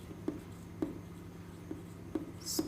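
A pen writing a sentence on a surface: a series of distinct short taps and strokes at uneven intervals, close and fairly quiet, alone with no talking.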